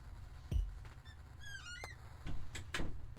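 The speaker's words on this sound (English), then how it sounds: "The creaking door returns." A door creaks open in slow, squeaky wavering tones, with a few soft knocks and thuds around it, quiet and alone.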